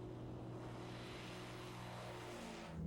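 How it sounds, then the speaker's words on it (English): A Europa light touring aircraft with a three-bladed propeller and double silencer drones steadily with a low engine hum and tonal propeller buzz, fairly faint, shifting in pitch as it passes near the end. "The Europa, a true touring aircraft."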